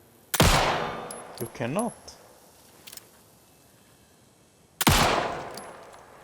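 Gunfire in the video game Alan Wake II: two loud, sharp shots with ringing tails, about four and a half seconds apart, with a short spoken phrase and faint clinks in between.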